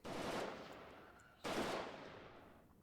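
Two long bursts of PK machine gun fire in the Warno strategy game, each a loud continuous rattle that trails off, with a short gap between them.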